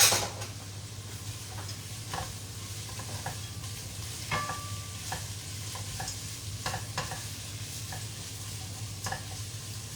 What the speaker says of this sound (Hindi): now you hear this beautiful sizzle